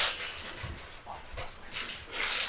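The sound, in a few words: dog Goldie whimpering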